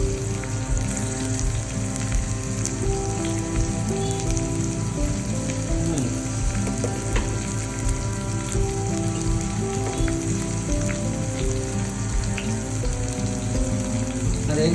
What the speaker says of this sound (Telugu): నెక్స్ట్ కొంచెం మిరపకాయలు వెన్న వేగిన తర్వాత కొంచెం జీలకర్ర 1 చెంచాడు.